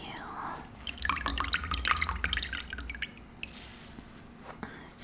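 Water squeezed out of a soaked plush teddy bear that smells of fabric softener, dripping and spattering in quick, close bursts that thin out to scattered drops as the squeezing eases.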